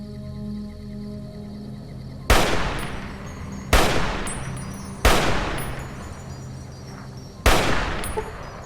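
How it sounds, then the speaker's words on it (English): Four sharp, loud gunshots from a gun in Fallout New Vegas, spaced roughly a second apart, each a hard crack with a short ringing decay over a quiet ambient hum. "Wonder if all these shots are connecting."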